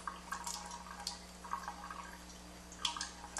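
Water trickling in an easy, slow flow from a water ionizer machine, soft drips and light splashing over a low steady hum, fairly quiet with no talk.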